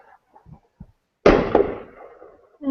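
A single firework for the 24th of July goes off outside with a sudden sharp bang that decays over about a second, after a few faint knocks, and is followed by the start of a voice.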